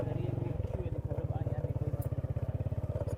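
A motorcycle sets off on a journey from a rural mud-house village, its engine throbbing in a steady, close, rapid pulse throughout, with voices faintly underneath.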